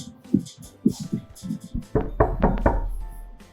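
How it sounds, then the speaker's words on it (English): Knocking on a door in a home, a few firm raps near the microphone amid a speaker's talk, with a low steady hum underneath. "I have someone knocking at the door"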